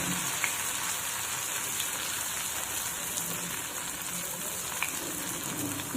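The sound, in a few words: ghevar batter frying in pan over full gas flame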